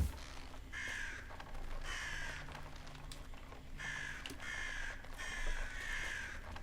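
Crows caw repeatedly in the video game Atomfall, hoarse calls arriving in spaced bursts over a dense, rumbling ambient background.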